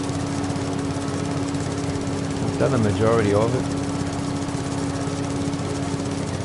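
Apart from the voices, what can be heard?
mower mowing grass in video game Farming Simulator 22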